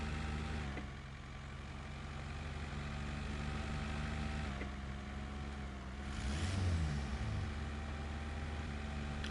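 A truck engine rumbles at a steady low idle and drive in SnowRunner, fairly quiet, with a brief throatier surge of revving partway through and no talking.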